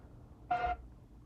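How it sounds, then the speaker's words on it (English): A kitchen timer alarm goes off in a single short electronic beep, a steady tone lasting about a quarter second, clear and fairly close over a quiet room. "I just stopped the timer, but it just went off"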